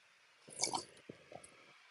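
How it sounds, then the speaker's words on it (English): A single sip of water is drunk close to the microphone, a brief wet slurp and squish followed by a couple of soft swallowing clicks in an otherwise quiet room. "Let me get a drink of water."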